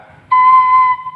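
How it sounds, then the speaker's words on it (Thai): One sustained C sharp on a Thai khlui flute, a single clear steady tone lasting well under a second, played close and alone. "นี่เสียงโดชาร์ปนะครับ"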